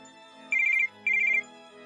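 A telephone gives two short, bright electronic warbling rings with a pause between, clear and close, with no one talking.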